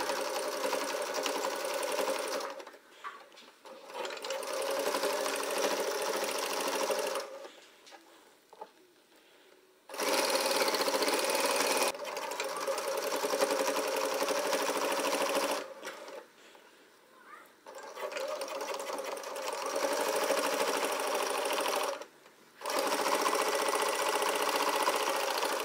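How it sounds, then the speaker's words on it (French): Close, loud sewing machine sewing a 1 cm seam along the sides and hem of a puffer jacket sleeve, running in several even bursts separated by brief pauses. "On réalise une couture à 1 cm du bord, des côtés et du bas de la manche."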